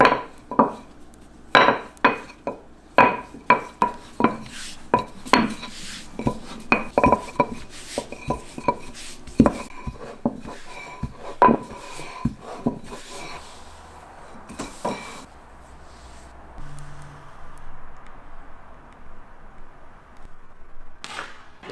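Bacon fat flour tortilla dough is rolled out on a floured surface, with a quick series of sharp knocks and taps from the rolling pin that settle into a softer, quieter rubbing toward the end.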